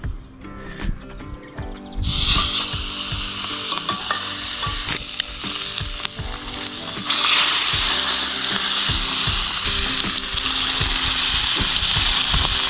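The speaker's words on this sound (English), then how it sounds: "We're just going to sear that one side, let that go for a few minutes, just depending on how hot this charcoal is." Pork chops sear on a grate over hot charcoal, a loud steady sizzle that flares up after the meat goes down and keeps crackling, with a few clanks of tongs.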